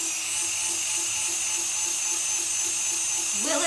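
A Dremel rotary tool grinding a Dragonball Z prop from SKS Props, a steady high whine held throughout that shifts pitch near the end, loud and close.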